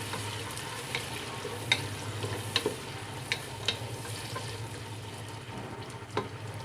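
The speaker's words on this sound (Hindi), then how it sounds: "इसको भी हल्का सा भुनेंगे।" Tomatoes and lengthwise-cut green chillies sizzle in hot oil in a pan for mutton biryani, a continuous frying hiss broken by several sharp clicks of stirring.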